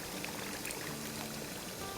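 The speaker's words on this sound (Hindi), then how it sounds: "तो अब इसमें हमने जो उबाला था ना, तो वो पानी स्टॉक जो बचा है वो डाल देते हैं।" Leftover boiled meat stock is poured into a pot of gosht being cooked with yogurt. A steady, soft, watery splashing and gurgling continues throughout, with no talking.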